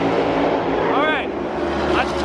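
NASCAR race cars roaring at Texas Motor Speedway, a loud constant engine drone from the crowd's position with a car sweeping past, under a voice talking.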